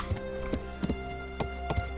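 Horse hooves clip-clop in Kingdom Come: Deliverance while riding, a handful of distinct irregular thuds over a steady tonal background hum.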